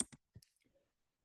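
Two or three quick clicks of a computer mouse while navigating an ICD-10-CM coding lookup, crisp and close, followed by a few fainter ticks, with no talking.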